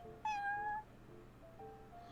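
A cat in the video game Genshin Impact gives a single clear, drawn-out meow close by, followed by soft background music.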